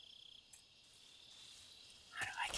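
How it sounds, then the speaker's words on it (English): A frog in the jungle of the video game Metal Gear Solid 3 croaks in a quick, pulsing trill against a steady insect-like buzz, with a louder rustling burst at the end, quiet and with no talking. "This is a frog that I could catch and maybe throw at enemies."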